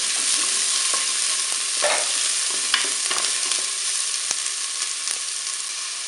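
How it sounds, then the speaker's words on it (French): Onions brown in the preheated pot of a Cookeo multicooker set to browning mode, a steady close sizzle with occasional stirring scrapes and taps. "je vais mettre mes oignons dans la cuve du cookéo"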